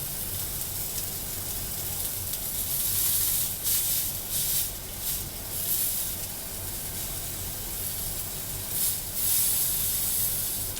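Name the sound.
sous vide pork loin searing in a hot pan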